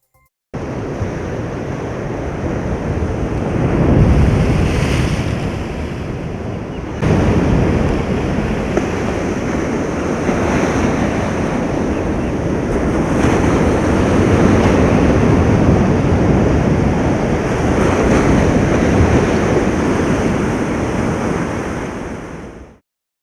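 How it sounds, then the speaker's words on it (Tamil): Rough seas from Cyclone Fengal pound the coast at Vedaranyam and Kodiyakkarai in Nagapattinam district, a loud, continuous roar of crashing surf with heavy wind buffeting the microphone and no pause between waves. "நாகை மாவட்டத்தில் வேதாரண்யம் மற்றும் கோடியக்கரை ஆகிய கடற்கரை பகுதிகளில் கடல் சீற்றமாக காணப்படுகிறது."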